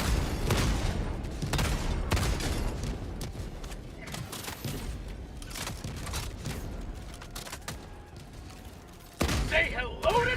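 Automated turrets firing in Helldivers 2, a dense, continuous barrage of rapid gunfire and booms in a chaotic battle, with voices talking over the din.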